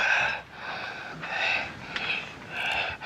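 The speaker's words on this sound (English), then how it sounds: "Everybody's breathing heavy." Heavy, rasping breaths from several people in a tense scene from the film Killdozer, rising and falling in repeated gasping waves, close and fairly loud with no talk over them.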